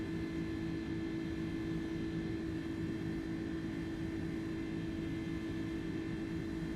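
Jet airliner engines running steadily in a flight simulator video game, a constant low droning hum with a whine on top, unchanging and fairly quiet throughout with no talking.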